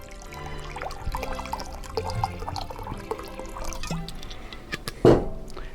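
Almond milk and spring water pouring into a mixing vessel for a cashew icing, a steady close liquid stream with small splashes and drips and a louder splash near the end.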